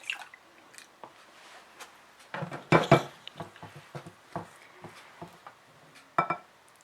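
A spoon works through sticky donut dough in a bowl, giving scattered scraping knocks against the bowl and soft squelching pulls, with a couple of louder clinks amid quiet gaps.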